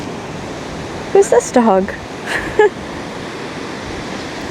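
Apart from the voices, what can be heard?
ocean waves on a Hawaii beach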